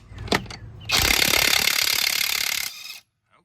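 A Seesii 3/4-inch drive impact wrench hammers on a lug nut in one loud, rattling burst of about two seconds, after a couple of brief clanks and before the noise stops.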